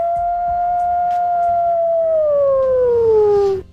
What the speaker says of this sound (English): Let's go on with that howl